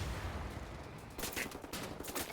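Boomstick weapons firing in the shooter game Wolfenstein: The New Order, a dense, continuous rattle of loud gunfire bursts and blasts that fills the whole stretch without pause.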